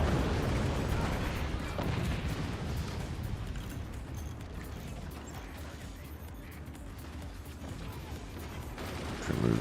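Artillery fires in the strategy game Forts as a dense, rumbling barrage of booms and crashes, fairly quiet and continuous, with a sharper burst near the end.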